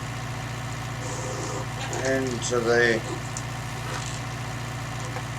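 Tractor engine idling with a steady low throb during a 1966 sugar beet harvest, close and constant, with someone talking briefly over it.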